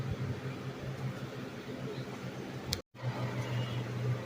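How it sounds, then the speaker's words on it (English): An electric fan hums steadily in the background of a home room, a low constant whir with a brief dropout near the end. "I'm sorry if you hear the fan in the background."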